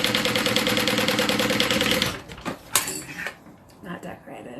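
A sewing machine stitches a mini pocket onto a fabric notebook cover, running fast and steady for two seconds before stopping, followed by clicks and handling noises as a person talks.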